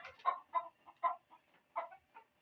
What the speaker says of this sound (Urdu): آپ دیکھ سکتے ہیں مرغی ادھر گھوم رہی ہے، اپنے کمرے میں آ چکی ہے